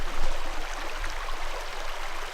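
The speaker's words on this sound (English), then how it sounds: "Redwood Creek flows through Muir Woods, out Frank Valley" Redwood Creek running through the redwood forest of Muir Woods, a steady broadband rush of flowing water, fairly close and continuous, with no voices.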